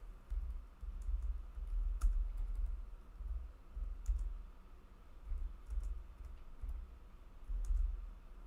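Typing on a computer keyboard during a Ratchet & Clank: Tools of Destruction PS3 demo livestream, faint scattered key clicks in short irregular bursts over a low background hum.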